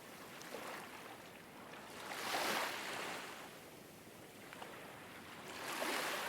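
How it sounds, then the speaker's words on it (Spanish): Sea waves heard from a hotel room window on the coast, a soft, distant, continuous wash that swells into two gentle surges. "el ronroneo de las olas me acompañaba para dormir"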